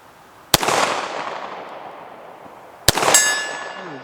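Two sharp Browning Hi Power pistol shots, a couple of seconds apart, each with a loud crack and a long ringing echo tail across an outdoor range.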